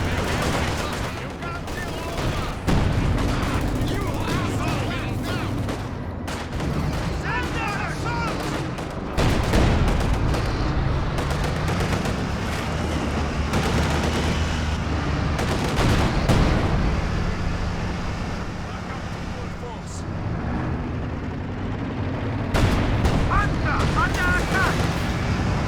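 Gunfire trading in a Company of Heroes 2 match: repeated bursts of small-arms and machine-gun fire with heavy booms, sustained and loud throughout, under a caster's continuous commentary.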